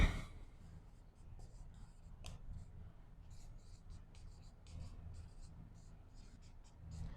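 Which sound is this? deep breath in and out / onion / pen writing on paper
pen writing on paper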